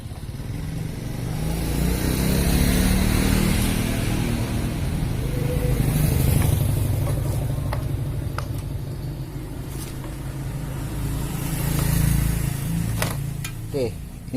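A Honda GX160 petrol engine on a 2000-watt generator runs steadily nearby, its drone swelling and easing in slow surges, with a few sharp clicks and clatters toward the end.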